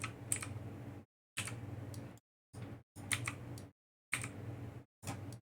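Sharp computer mouse clicks in short bursts of quick double taps, separated by brief silent gaps, close and crisp with no voices, while reroute nodes are added in Unreal Engine 4.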